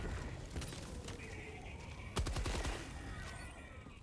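Rapid bursts of machine gun fire in Helldivers 2, a dense rattling volley with a sharper, louder burst about halfway through over ongoing game noise.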